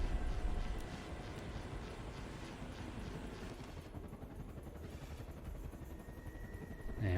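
Steady whirring hum of a drone hovering and moving in a video game set in an abandoned hallway, a continuous droning texture that shifts slightly midway with a thin high laser-like tone near the end, no talking.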